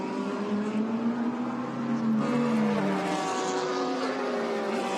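A Blancpain GT World Challenge Asia race car howls at full throttle through qualifying at Fuji, its engine note rising and falling across gear changes and holding loud and steady, with no voices over it.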